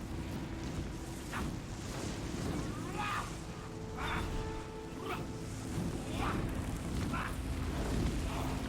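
Bomb explosions in the video game Horizon Zero Dawn: The Frozen Wilds, a series of booming blasts roughly once a second over a constant rumbling game backdrop.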